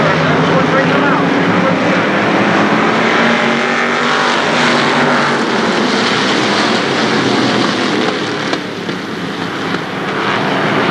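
Pro Stock race cars roar around Shadybowl Speedway in a dense, sustained engine drone that stays loud and near throughout, easing slightly near the end.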